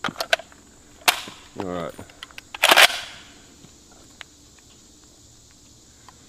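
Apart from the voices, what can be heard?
gunshots from a SCAR 17S .308 rifle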